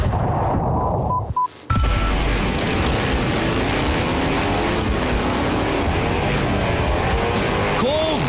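Motorcycles from a custom biker build-off race around Verona Speedway, a dense, loud, continuous engine roar that holds steady after a brief drop near the start.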